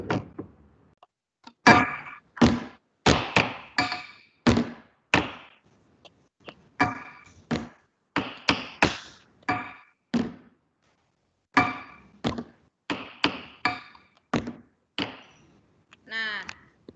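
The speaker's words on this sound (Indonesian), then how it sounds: "pola irama yang Ibu gunakan dari benda-benda di sekitar" A rhythm pattern is tapped out on everyday objects around a room, with sharp knocks and thunks falling in grouped clusters separated by short pauses, loud and close.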